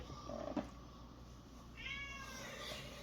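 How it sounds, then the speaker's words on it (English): A pet cat meows briefly at close range, a short vocal call standing out over a steady hum of room noise, with a faint tonal sweep following later. "my cat was just kind of chatty"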